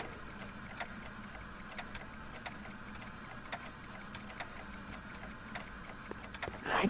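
A quiet, regular clock ticks in the video game Back to the Future, with steady evenly spaced ticks over a faint background hum and a brief louder sound at the end.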